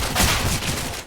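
A burst of rapid gunfire from Counter-Strike on the Overpass map, loud and close, several shots fired in quick succession over about a second.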